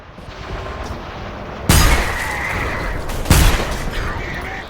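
A hand cannon pistol fires in the video game Selaco: two sharp, loud shots about a second and a half apart, each ringing out over a low, steady game ambience.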